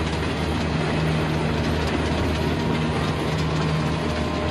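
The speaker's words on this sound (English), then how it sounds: "got a lone train coming through" A lone train rolls through a valley, a steady loud rumble with rail clatter and a low engine drone throughout, close and continuous.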